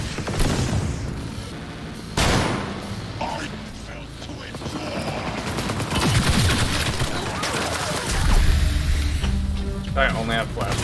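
Rapid bursts of gunfire from the video game Cyberpunk crackle through a busy mix, sharp volleys recurring across the stretch while voices talk over them.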